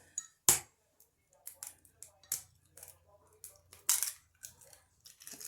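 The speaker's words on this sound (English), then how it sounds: "I'm going to go ahead and break my egg into that." An egg is cracked and broken into a cornbread sloppy casserole, a sharp close crack followed by scattered clinks and clatter of kitchen utensils in a quiet home kitchen.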